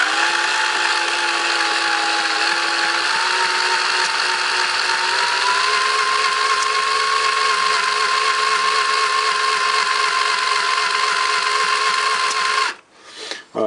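A homemade hydrogen compressor mechanism turns over at low speed with a loud, continuous mechanical whir whose pitch edges up slightly midway, then cuts off abruptly near the end.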